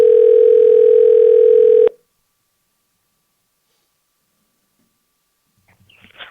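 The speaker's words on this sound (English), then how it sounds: "As we dial her up" A steady, loud telephone dial tone hums for about two seconds while a call is being placed, then cuts off abruptly into silence before faint handset rustling.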